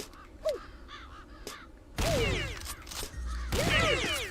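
Crows caw repeatedly in the video game Corpse Party, harsh calls sounding sporadically before turning louder and denser over a steady ambient background, with no talking.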